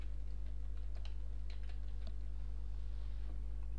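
Light, irregular keystrokes on a computer keyboard while someone types text into a web browser. The clicks are faint and scattered over a steady low electrical hum.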